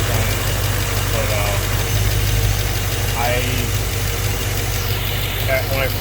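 An LS-swapped FJ-80 Land Cruiser sits idling with its newly added electric cooling fans running, giving a steady low engine rumble under a continuous fan whoosh while someone talks over it.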